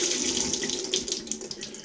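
Steady stream of tap water splashing through a strainer of rice being rinsed until the water runs clear, a brief, fairly quiet hiss with bright splashy detail and no talking.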